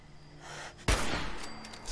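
A single loud gunshot burst in Fallout 4, sudden and close, followed by a sustained rumbling tail, with no talking.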